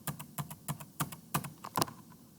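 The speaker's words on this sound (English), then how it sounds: "You can do that by holding down Shift and hitting the right arrow" Close, fairly quiet computer keyboard keys pressed repeatedly with Shift held while the right arrow is tapped, a string of about a dozen light clicks at an uneven rhythm.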